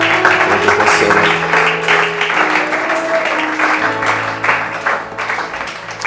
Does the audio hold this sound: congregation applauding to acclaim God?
yes